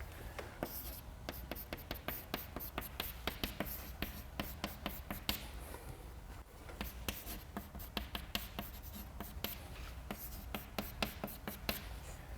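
Chalk or marker writing out equations on a board during a statistics lecture, a long run of quick scratchy strokes and taps in an irregular rhythm, fairly close and faint, continuing steadily with a brief pause midway.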